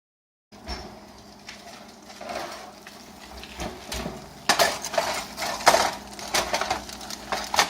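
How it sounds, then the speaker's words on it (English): Metal pans clatter and scrape as a tray of pork ribs comes out of an oven, with irregular clanks growing louder and busier toward the end, close up and with no talking. "we're going to be taking them out of the oven"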